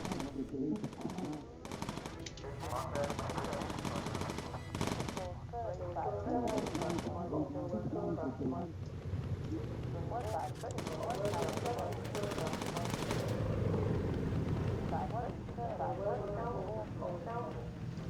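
Bursts of machine-gun fire rattle in a WW2 bomber flight video game, some rapid volleys and some short ones, with voices talking over much of the firing.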